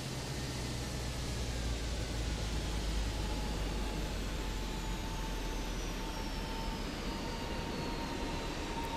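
Airbus A321neo jet rolling down a wet runway on takeoff, heard from a nearby cockpit: a steady, fairly faint broadband jet roar with a thin whine sliding in pitch, constant and unbroken, no talking.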